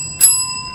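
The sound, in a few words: game show ringing bells being tested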